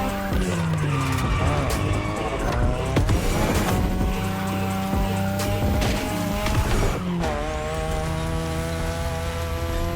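In The Crew Motorfest, a racing car drifts through mountain-road turns, its engine revving and tires squealing repeatedly, with shifting pitch and a few sharp gear-change breaks across a continuous loud run.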